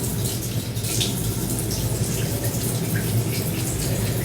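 Water from a tap runs and splashes steadily as hands cup it over the face during a skincare rinse, a close, continuous wash of trickling and splattering with no talk.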